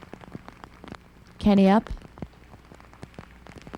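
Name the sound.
rain falling on disc golf course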